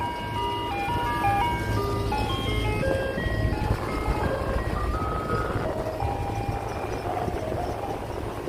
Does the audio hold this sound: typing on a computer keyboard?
no